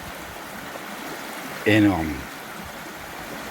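A small river flowing in a countryside field, a soft continuous trickling wash heard close and steady, briefly interrupted by a single spoken word.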